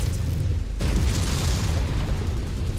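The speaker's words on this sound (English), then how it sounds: "Oh, his ammo exploded." An ammunition explosion goes off on a mech in a MechWarrior-style video game. A sudden loud boom gives way to a sustained rumbling roar and crackle with no speech.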